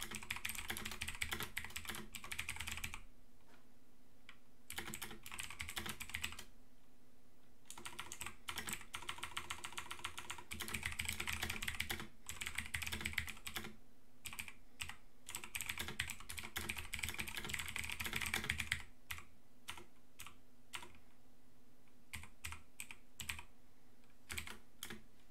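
Rapid clattering keystrokes on a computer keyboard, near and continuous in dense bursts with a few brief pauses, no voices.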